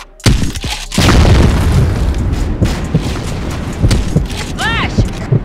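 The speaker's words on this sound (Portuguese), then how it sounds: "Granada!" A grenade explodes in the video game Valorant, a loud booming blast with a sharp onset followed by dense rumbling game noise and a few smaller pops, with voices talking over the action.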